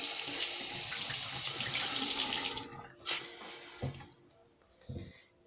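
Water from a tap runs steadily onto a Beautyblender makeup sponge for a few seconds, then stops, leaving a few soft squeezes and drips close by.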